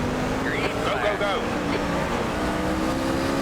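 NASCAR Class C race cars at Rockingham in iRacing, a steady engine drone with brief rising and falling tire squeals early on, heard beneath a voice talking.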